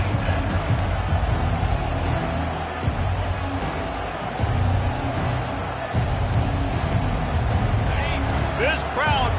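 Simulated stadium crowd from the Madden football video game fills the scene with a steady, loud roar during a kickoff return, running continuously beneath a commentator's talk.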